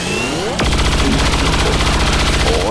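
Gunfire in the XCOM video game aimed at an Andromedon suit: a sharp shot, then a loud, continuous rapid burst like automatic fire, dense and close.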